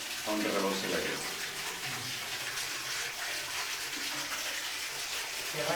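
Steady rushing and swirling water at the base of a stream, a continuous close gushing wash that holds at an even level throughout with no talk.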